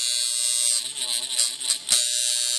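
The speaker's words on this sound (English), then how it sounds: "the next machine, is a gray wash shader, which is meant for black and gray or really light color work" A gray wash shader tattoo machine running: a steady, bright, high-pitched electric buzz throughout, close and fairly loud, with a voice speaking briefly over it in the middle.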